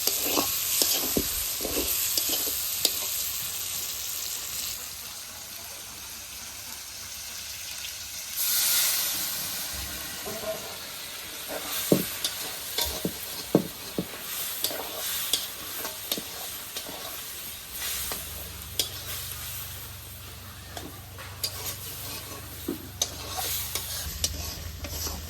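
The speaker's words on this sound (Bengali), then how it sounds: "আমি কিন্তু তেল ছাড়া রান্না করতেছি এবং খাসির তেল দিয়েই কিন্তু রান্না করতেছি।" Goat meat sizzling and frying in its own rendered fat, cooked without added oil, with a spoon or spatula repeatedly scraping and stirring the pan; a continuous close sizzle under intermittent clattering strokes, with a bursting hiss of steam partway through.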